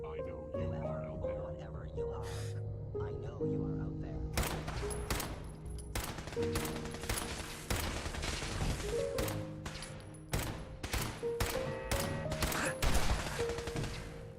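Gunfire in Fallout 4 during a dungeon fight, as a sharpshooter build empties its weapon: a dense run of sharp shots, single and in rapid bursts, loud and close over steady game music and ambience.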